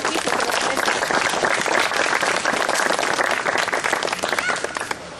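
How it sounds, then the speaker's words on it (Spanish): An audience at a satsang for a Spanish and Latino group applauds the interpreter, with loud, dense clapping from a large crowd. It goes on steadily for several seconds and eases slightly near the end. "let us give him a big hand for doing good service"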